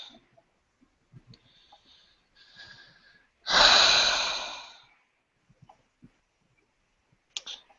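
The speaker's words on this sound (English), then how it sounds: "she's breathing in and out" A woman standing at an open window lets out one long, audible breath, a breathy sigh lasting about a second and a half amid near-silence and a few faint clicks.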